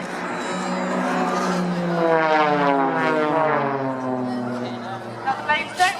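Several Blades aerobatic team propeller aircraft roar past in a formation break, engines droning with sweeping pitch shifts as they pass close and loud, sustained for several seconds.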